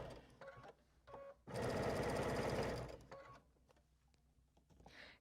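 A sewing machine stitches a Lonestar quilt up to a pin marking a Y seam, with a loud, steady mechanical whirring burst of about a second and a half between quieter stretches of handling noise, close by and without talk.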